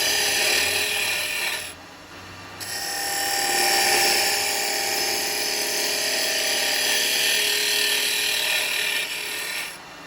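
A woodturning tool scrapes across a spinning elm bowl on a lathe, a loud continuous rasping hiss that dips briefly near the start and then runs steadily without pause.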